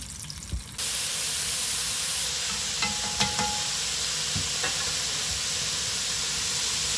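Jumbo shrimp frying in oil at a Louisiana catch-and-cook, a steady loud hiss and sizzle that jumps in abruptly after a brief quiet start, with a few faint clicks and knocks over the constant crackle.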